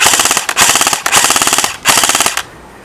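Several loud, close bursts of full-auto fire come from a KWA M4A1 airsoft rifle with a stock motor on an 8.4 volt battery, a rapid buzzing rattle broken by brief pauses before stopping.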